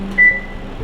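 An oven gives a single short, clear electronic beep over a low hum in a quiet kitchen.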